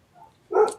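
A dog gives a single short bark, muffled and somewhat distant, after a faint murmur during a livestream panel discussion.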